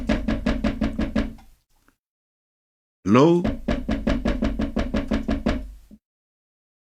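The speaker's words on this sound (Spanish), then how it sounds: "están tocando a la puerta" Two quick bursts of firm, rhythmic knocking on a door, separated by a short silence. A voice briefly calls out as the second round begins.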